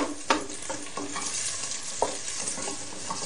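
Onions sizzle steadily in a pan while a utensil scrapes and stirs them, giving occasional sharper clicks over the continuous frying hiss.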